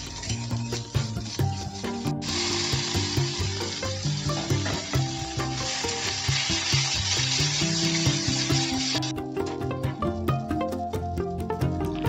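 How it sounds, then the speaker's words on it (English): Spaghetti fries and is stirred in a pan with black pepper and sugar, a continuous sizzle with scraping and clinking over a dense, busy background that runs without pause for about twelve seconds. "add the spaghetti onto it and then give it a good mixture"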